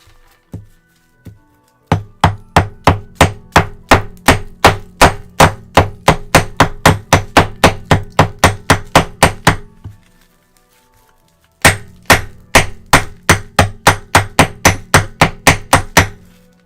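A hammer repeatedly striking a rock on a desk, sharp loud close thuds in a fast steady rhythm, roughly forty blows in two bursts separated by a brief pause, with no talking.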